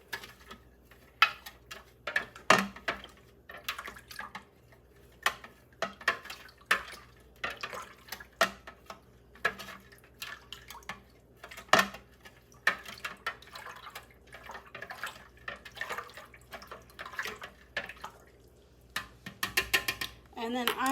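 A natural wool dye mixture with alum is stirred in a pot, giving irregular light clinks, taps and small watery splashes, close and fairly quiet, with a voice speaking now and then.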